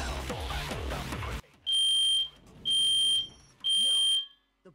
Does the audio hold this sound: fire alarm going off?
yes